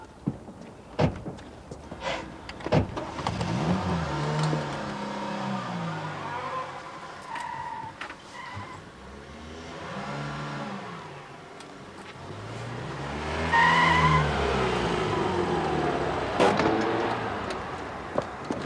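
A car drives hard with engine revs rising and falling in repeated sweeps, punctuated by sharp knocks and brief tyre squeals, loud and close throughout with no talking.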